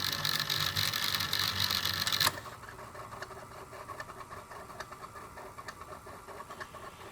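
A 1985 Sanyo Super Betamax VCR whirs and clicks as its tape loading mechanism runs, a loud mechanical burst that drops to a quieter steady motor hum with faint ticking.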